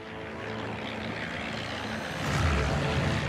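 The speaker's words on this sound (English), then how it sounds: "a new wave of British planes had just taken off, despite the terrible weather conditions" British propeller aircraft taking off in terrible weather, a steady droning engine roar that swells louder toward the end, with no voices.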